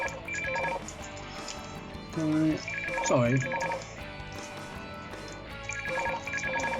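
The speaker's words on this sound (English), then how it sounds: "Oh, there's the phone." A telephone bell rings in short repeated bursts across the clip, fairly close, with a person talking over and between the rings.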